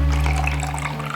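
Buttermilk pouring off freshly churned butter in a kitchen, a short splashing, trickling stream of liquid over a low mechanical hum, close and fairly loud.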